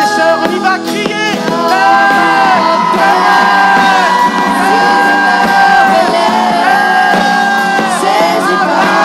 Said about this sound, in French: Allez, frères et sœurs, on y va crier.